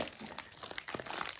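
Crinkly wrapping around a gift rustles and crackles as it is handled, a close, continuous papery crumpling over a second and a half.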